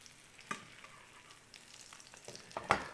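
Cereal-crusted French toast fries quietly in a pan, giving a soft, low sizzle that is broken by a few sharp clicks and scrapes of handling.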